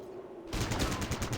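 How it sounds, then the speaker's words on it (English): Rapid automatic gunfire erupts suddenly in the Fallout Tactics video game, a dense burst of repeated shots aimed at a raider, loud and sustained after a quiet hum. "start shredding him with bullets"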